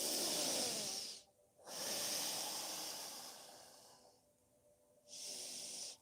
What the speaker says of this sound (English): relaxing and breathing through your nose